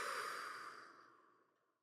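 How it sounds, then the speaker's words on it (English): A single deep breath released slowly through the mouth as a soft, airy exhale, loud at first and steadily fading to silence over about two seconds, with no talking. "take a deep breath in with me. Hold it at the top and release it through your mouth"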